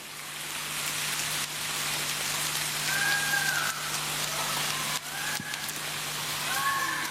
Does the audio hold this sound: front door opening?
no